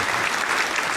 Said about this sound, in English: Here's some claps for you.